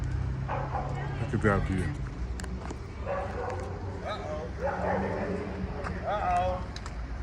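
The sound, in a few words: dogs fighting and barking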